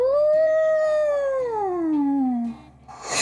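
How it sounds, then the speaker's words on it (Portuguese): A lone whale call, a long tonal moan that holds steady and then slides slowly downward in pitch over about two and a half seconds, loud and clear, ending in a short noisy burst. "Era uma baleia."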